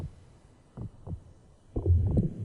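Heartbeat in the anime Baki Dou, deep thumping beats in pairs, soft at first and then a heavier, louder throb near the end.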